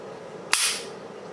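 A single sharp metallic click of an unloaded Glock pistol's trigger breaking on a dry fire, close and crisp with a short fading ring, alone in a quiet room.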